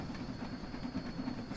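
A train in Train Sim World 2 rolls across a bridge in wintry conditions, a quiet, steady rumble with a faint rhythmic clatter of wheels and a thin hiss, no voices.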